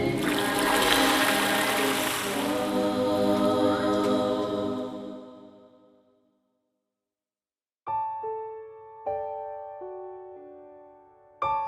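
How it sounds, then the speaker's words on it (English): Water rushing and splashing during a baptism in a sunny creek in the Appalachian Mountains: a loud, churning wash that fades out over about six seconds, followed by silence and then a few clear, ringing musical tones. "On a sunny Sunday afternoon, in a creek not far from her home, Lucy Collins was baptized."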